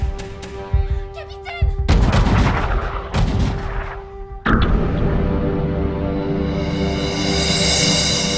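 Blaster fire in a sci-fi audio drama: sharp, loud energy-weapon shots and booming blasts in quick succession, followed by a sustained rumbling roar with a rising hiss.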